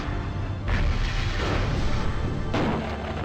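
A vehicle blows up in the MechCommander video game with a sudden loud boom, followed by a rumbling roar, then a second sharp blast near the end.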